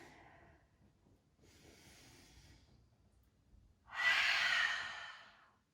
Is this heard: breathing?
yes